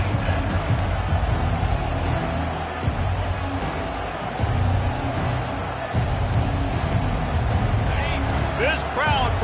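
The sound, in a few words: stadium crowd noise in Madden video game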